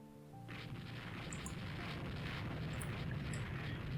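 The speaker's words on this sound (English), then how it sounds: "Once we start shooting, like now, we have pretty much won the battle." Naval gunfire from early dreadnought-era warships in the strategy game Rule The Waves 3, heard as a sustained low rumble with a booming onset, layered with faint higher crackles.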